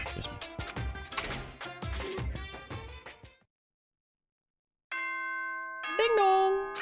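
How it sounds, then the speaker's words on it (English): A doorbell chime rings in the video game Danganronpa 2, sustained tonal ding-dong notes after a short silence, following a stretch of rhythmic music-like sounds. "Ding dong."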